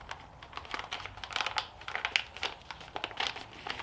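A paper instruction manual for a Toro Power Max 828 OAE snow blower is folded in half, giving close, crisp crinkling and rustling with quick paper creases and soft taps over a few seconds.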